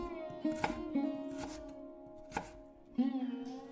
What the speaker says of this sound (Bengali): সুন্দর করে কাটাকাটি শেষ করে নিলাম